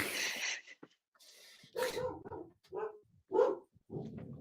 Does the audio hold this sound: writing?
no